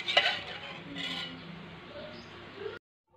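Utensil scraping and knocking against a pot while batter for Greek lukumades doughnuts is mixed, a few clinks up front and then softer swirling before it cuts off abruptly.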